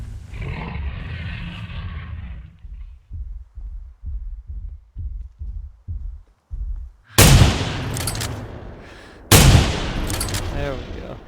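Rifle shots in theHunter: Primal hunting game: two loud, sharp blasts close together near the end, following a low rhythmic thumping heartbeat-like pulse, with brief talking early on.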